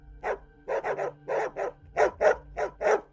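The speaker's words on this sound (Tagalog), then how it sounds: "nakarinig kami ng kahol ng mga aso" A pack of dogs barks in quick bursts, about ten sharp close barks coming in uneven clusters, loud and clear against quiet background with no talking.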